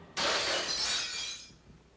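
A crystal ball smashes with a sudden bright crash of breaking glass, then a shimmering tinkle of shards that fades out over about a second, heard alone.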